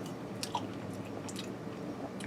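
Soft close chewing of a bite of blue cheese and cornbread stuffed pork chop, cooked in a Copper Chef XL pan, with a few moist crunchy bites over faint room noise, no talking.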